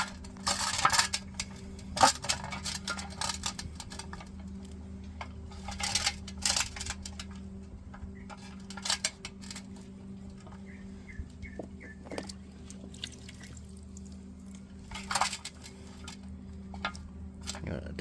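Soaked wood chunks loaded by hand into a smoker pan: scattered, irregular clunks and knocks of wet wood against metal over a steady low background hum, some taps sharp and close, others soft.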